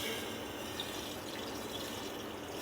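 A cup of water pours into a cooking pan, a continuous close splashing rush that stays fairly even for a few seconds with no talking.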